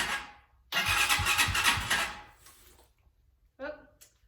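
An RPS Magician 250cc motorcycle with the choke fully up cranks and briefly catches with a loud, rough, rattling burst lasting over a second before dying away, followed later by a short voice.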